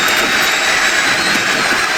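Steady, loud roar of a plane's jet engine in the WWE 2K25 wrestling game, a continuous broadband whoosh with no breaks and no talking.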